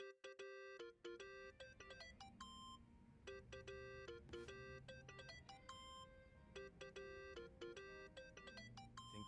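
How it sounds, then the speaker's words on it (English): Phone ringtone in the video game Yakuza: Like a Dragon, a repeating electronic melody of bright beeping tones playing steadily at moderate volume. "Think that's your phone, man."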